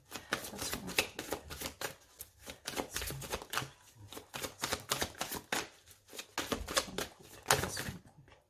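Tarot cards riffled and drawn by hand in a quick run of crisp, papery slaps and flicks, close and fairly loud, pausing briefly between bursts with no voice.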